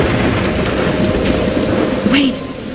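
Storm in the Life is Strange video game: heavy, loud rain roaring steadily with a deep rumble of thunder underneath and a brief whistling gust near the end.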